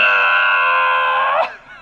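A voice mimics a woman screaming in labour inside an elevator, giving one loud, sustained, strained wail that holds steady and then breaks off abruptly near the end.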